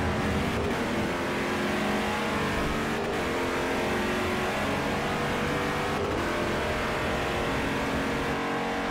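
An LMP2 prototype race car engine held at the rev limiter in Forza Motorsport 4, a loud, sustained buzzing drone with brief periodic dips, close and continuous with no talk.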